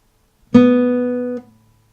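A single plucked guitar string sounds a B note, ringing out clearly and sustaining with rich overtones for about a second before being cut off.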